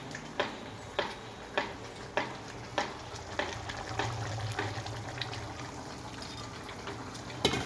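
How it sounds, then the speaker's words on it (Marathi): A spoon scrapes against a pan in regular strokes while khoa is stirred into milk, with a soft simmering sizzle underneath and no voices. "तर दुधात कालवून टाकते 2च मिनिट"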